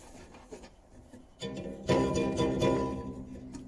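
A DeWalt DW739 bandsaw with a freshly tensioned blade starts up, its motor and belt hum rising in two steps to a steady, fairly loud mechanical drone.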